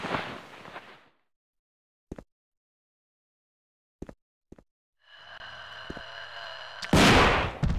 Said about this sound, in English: I'm gonna be sticking to this shotgun.